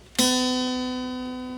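A single untuned high E string on a 12-string guitar is plucked once, ringing with a steady bright tone that slowly fades, sounding slack and somewhat low in pitch.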